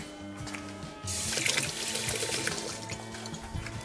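Tap water gushes steadily into a sink as a container is rinsed after making Hatch chili hot sauce, a broad continuous splashing that starts abruptly over a faint low hum.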